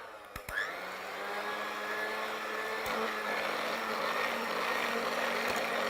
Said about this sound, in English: So we're gonna mix this up with the old mixer